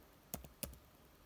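Two quick keystrokes on a computer keyboard while typing a name, crisp close clicks about a third of a second apart, each with a softer secondary tap, in a quiet room.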